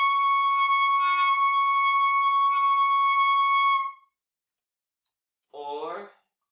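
A long sustained altissimo saxophone tone, key A sharp fingered with the right hand released, held clear and steady for nearly four seconds before stopping, followed by a short spoken phrase.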